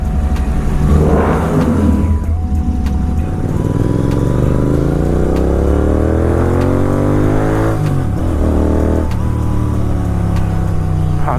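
Royal Enfield GT650 fitted with a Red Rooster exhaust, revving close and loud, the engine note climbing steadily through a long rev, dropping, then blipping again with a couple of sharp throttle stabs.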